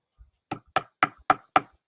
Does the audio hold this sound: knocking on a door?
yes